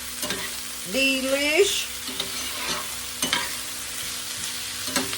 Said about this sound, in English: we're going to go ahead and put this broccoli in here. toss that around.